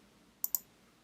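A computer mouse gives two quick, crisp clicks close together, sharp and close against near silence, as in clicking through Excel.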